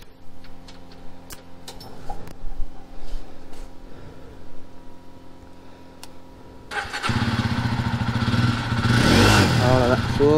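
A motorcycle engine starting up for a group bike ride: faint ticking and a voice early on, then the engine catches and settles into a loud, steady, close running roar.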